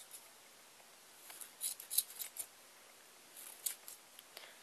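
Scissors snip through a bundle of yarn loops gathered like a pom-pom while making puffy yarn flowers, a quick series of faint, close crisp cuts in two clusters with pauses between.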